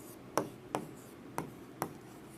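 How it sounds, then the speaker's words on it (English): A pen sketches a plant on paper in four short, evenly spaced scratchy strokes, close and quiet, against a faint room background with no talking. "I am drawing a plant here"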